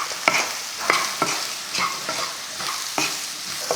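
Boiled raw banana pieces sautéed with onion and masala in a pan: a steady sizzle broken by regular scraping stirs, close and fairly loud, with no talking.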